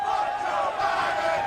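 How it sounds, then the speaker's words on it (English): A crowd at a race chants in unison, a dense, loud roar of many voices holding a steady sung pitch throughout, with no single speaker standing out. "as you can hear the chants from the crowd"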